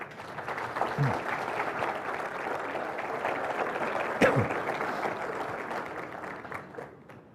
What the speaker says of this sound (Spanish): Con ustedes, el padre Alfredo Sáenz, para quien pido un aplauso fuerte